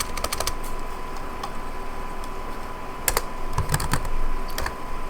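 Typing on a computer keyboard while entering code, with quick bursts of close key clicks separated by pauses, heard alone.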